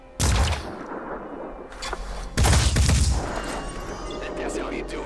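Gunfire in the Phoenix Point video game as a soldier aims for a madman's head: a sharp blast, a second burst soon after and a loud volley with a booming tail, reverberating over a steady game background.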